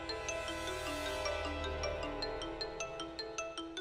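A phone rings with an incoming call, playing a bright melodic ringtone of repeating chimed notes that holds steady and clear throughout, loud and close with no voices.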